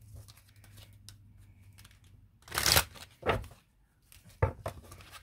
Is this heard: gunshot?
no